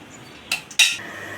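Metal lid set onto a cooking pot of okra and raw prawn curry, two quick clanks close up, the second louder with a brief ringing tail.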